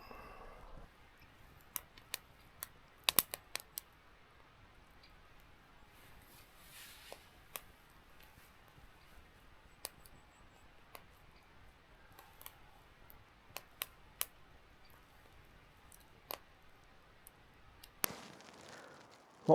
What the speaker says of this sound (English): Fire's still going behind us.